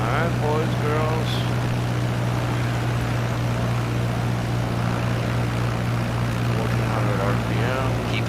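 A training aircraft's propeller engine drones loud and steady while it banks into the turn onto final approach, with voices talking over the constant hum.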